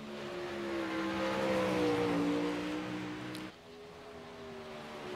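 A sprint car engine in a dirt-track racing video game drones past, its tone sliding and fading as it goes by, followed by a quieter, lower engine hum; no voices.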